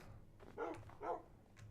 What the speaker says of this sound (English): Yeah, there's the puppy dog.